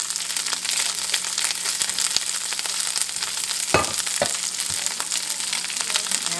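Hominy browning in a pan, giving a steady, close sizzle and crackle of frying throughout, with a couple of brief louder knocks partway through.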